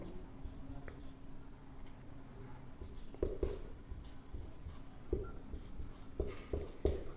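Pen scratching words onto paper by hand, soft continuous scribbling with a few sharper taps and strokes, close and quiet with no talk.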